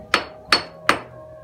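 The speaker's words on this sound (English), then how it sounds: "We're going to take the official mayor's hammer here." Three sharp, evenly spaced strikes of the official mayor's hammer on limestone, close and ringing briefly after each blow, with no talk.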